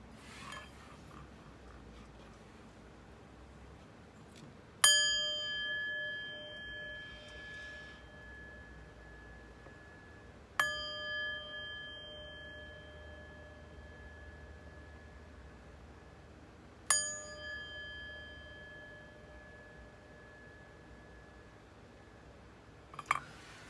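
Chimes ring out three times, each strike a bright, sustained metallic tone that slowly decays, spaced several seconds apart over a faint hiss.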